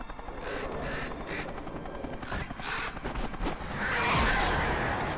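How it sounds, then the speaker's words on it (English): A large flock of birds in the Alan Wake Remastered video game: dense, loud fluttering and flapping in continuous churning waves that swell toward the end, with no voices. "That's a lot of birds."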